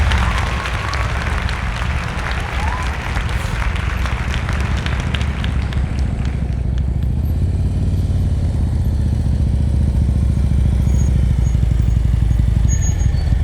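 Motorcycle idling and puttering at low speed during advanced slow-speed riding practice in Pennsylvania, a steady loud engine rumble with clattery bursts throughout, no talk.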